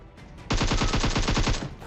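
Rapid burst of automatic gunfire in PUBG Mobile, a loud, fast string of sharp shots lasting about a second after a brief quiet lead-in.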